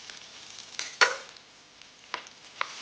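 Garlic is chopped with a knife on a board in a few sharp, separate cuts, one clearly louder than the rest, with quiet gaps between them.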